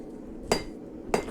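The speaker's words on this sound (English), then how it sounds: "You're kind of hammering it to spread it, but you're also hammering up the anvil." Two sharp metallic hammer strikes ring out about half a second apart as a bottle opener is hammered flat on an anvil, each a bright clanging hit with a short ringing tail.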